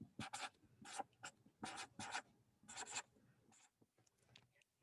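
Pen scratching across paper while jotting notes for a college algebra problem, several short bursts of quick strokes with brief pauses between, close and fairly quiet.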